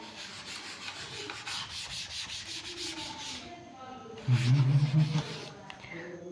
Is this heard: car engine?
no